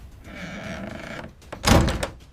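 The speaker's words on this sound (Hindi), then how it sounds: "दरवाजा बंद हुआ, धड़ाम" A door slams shut in a cartoon story scene: a loud, broadband thud near the end, preceded by a softer shuffling rustle, with no talk.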